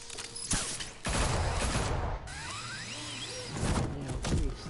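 Gunfire erupts in Batman: The Telltale Series game, several sharp bursts of shots and crashes with whooshing movement between them, loud and close with no talking over it.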